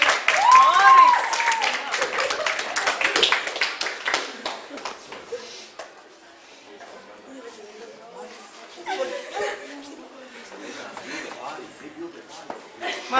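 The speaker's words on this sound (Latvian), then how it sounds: "Aplausus studijā!" A studio audience breaks into applause on a game show, a dense burst of clapping mixed with laughter that fades as talking takes over, then picks up again briefly.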